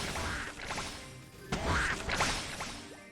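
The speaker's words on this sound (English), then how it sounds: "Why are these things making Donald Duck noises?" Enemies in the video game Ragnarok Battle Offline give off squawky, Donald Duck-like quacks, mixed with sharp game hits and clatter, loud and close with no talking.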